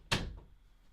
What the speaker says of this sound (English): I'm going to close the door before I lock myself in.